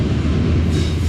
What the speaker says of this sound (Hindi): ट्रेन हमारी स्लो स्पीड में यूसुफवाला रेलवे स्टेशन से पास थ्रू हो रही है